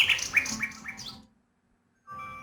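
A little bird chirps in the video game King's Quest VI, a quick run of bright, close tweets that fades to silence, then a steady game tone resumes.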